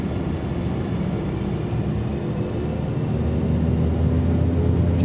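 A Cessna 208B Caravan turboprop in the MSFS 2024 flight simulator spools up for takeoff, a steady droning engine roar that holds constant and slowly swells, with no talking.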